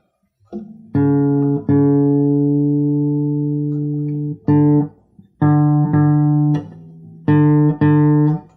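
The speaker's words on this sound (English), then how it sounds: "You can hear my open string D, it's very flat. So let's tighten that up." A plucked open D string on a guitar rings out repeatedly, sustaining between plucks as its very flat pitch is tightened up, loud and clear with no talking.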